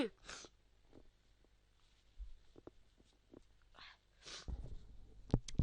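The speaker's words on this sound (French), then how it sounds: "J'ai éternué un petit peu." A single person's sneeze, a short burst, close and fairly quiet, surrounded by faint rustling and low background noise.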